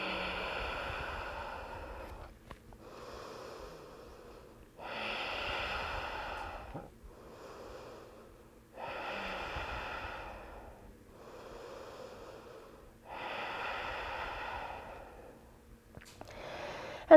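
Slow, deep breathing in a yoga pose, with the cheek resting on the floor. Long airy inhales and exhales alternate in a steady rhythm, each lasting about two seconds, close and soft against a quiet room.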